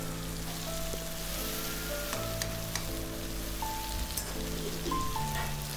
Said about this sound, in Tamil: இதெல்லாம் சேர்த்து நல்லா வதக்கி விட்டதுக்கப்புறமா இப்போ நம்ம வேக வச்சு எடுத்துருக்கிற அந்த காய் சுண்டல் எல்லாத்தையுமே உள்ளே சேர்த்துற வேண்டியதான்